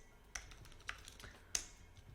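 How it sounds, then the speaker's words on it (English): A prompt typed on a computer keyboard, with three soft, close key clicks spaced irregularly in an otherwise quiet room. "So I'm going to type, I want a LinkedIn post about Notion AI capabilities."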